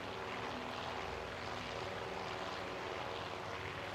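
Dive bomber engines in the naval strategy game Task Force Admiral make a continuous, dense propeller drone, loud and even, with no break or voices.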